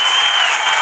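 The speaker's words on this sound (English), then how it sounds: "And that's why they're cheering." A packed stadium crowd at an NRL rugby league match between Manly Sea Eagles and New Zealand Warriors claps and cheers in a dense, loud, continuous roar of applause.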